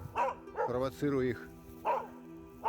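Hunting dogs bark sharply and repeatedly in the outdoors at a capercaillie hen leading them away from her chicks, several close yips and a drawn-out whimpering bark, with someone talking over them.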